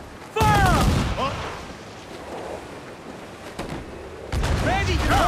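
Ship cannons fire in broadside bursts in the pirate game Assassin's Creed IV Black Flag, two loud booming volleys at the start and end over wind and crashing ocean waves, with shouted voices.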